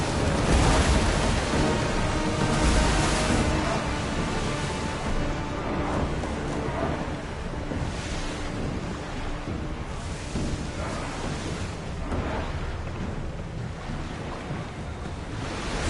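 A ship under oar and sail crossing the open sea in Assassin's Creed Odyssey, with a steady wash of waves and wind rushing along the hull, loud and continuous without pause.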